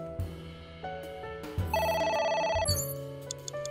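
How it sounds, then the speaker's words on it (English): A telephone rings in the video game AI: The Somnium Files, with electronic ring bursts over a musical game soundtrack, and nobody talks. "A phone. Should I pick it up?"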